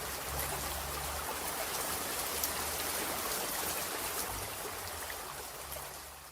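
Light rain falling outdoors, a steady soft hiss of drops spread evenly and continuously, with a faint low rumble underneath and no talking.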